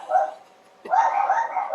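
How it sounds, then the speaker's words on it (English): A dog gives a short whimpering yip, then after a brief pause lets out a longer, sustained whining bark. Both are close and fairly loud. "The dogs are happy."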